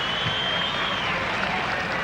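Crowd at Penrith Park cheering and applauding during a hot-day 1983 Penrith versus Canterbury rugby league match, a broad steady roar of clapping and voices throughout, with commentary talk mixed in.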